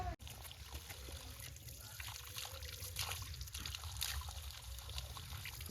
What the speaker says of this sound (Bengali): এখানে কিন্তু অটোমেটিক জল পড়ছে, কোনো মানে ইলেকট্রিক নেই, ইলেকট্রিক কোনো মোটর বসানো নেই